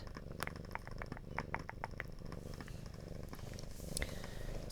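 A cat purrs steadily and close by, a continuous low rumble with a few soft clicks and rustles over it, and no one talks.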